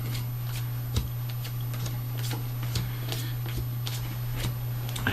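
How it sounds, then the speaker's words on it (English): Tarot cards drawn one by one from a deck, giving faint papery slaps and rustles at irregular intervals over a steady low hum, with no voice. "I'm going to pull out 7 cards."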